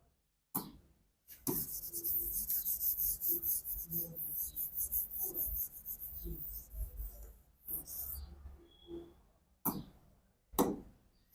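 Handwritten notes for a class on ribosome structure: pen scratching and rubbing on paper in short bursts, close and fairly quiet, broken by a few sharp coughs and throat clearing.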